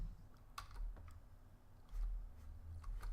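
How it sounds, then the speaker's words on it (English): Several quick, light clicks in short clusters, close and fairly quiet, as a mouse is clicked during a Minecraft Modern Skyblock 3 Departed modpack session, over a low steady background hum. "Let me click it"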